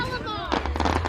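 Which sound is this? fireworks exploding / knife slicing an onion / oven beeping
fireworks exploding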